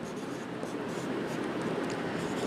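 Pen scratching on paper while a maths exercise is worked out, a steady soft scribbling that runs continuously and fairly close with no pauses.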